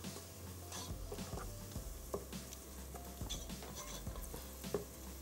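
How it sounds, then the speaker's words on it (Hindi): Onions frying in ghee in a pan, with a steady close sizzle and repeated scraping stirs, and a low hum running underneath throughout. "प्याज क्योंकि हम उसमें फ्राई कर रहे हैं"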